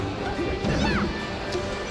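A heavy down smash lands in a Super Smash Bros. Melee match: a sharp game impact followed by swooping effect sounds, set in a busy tournament room with murmuring crowd noise.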